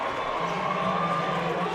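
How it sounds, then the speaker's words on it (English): Fans in a high school basketball arena cheer after a dunk in a boys' state quarterfinal, a steady, dense roar of crowd noise that holds at an even level throughout. "Oh, and Staley's cheering."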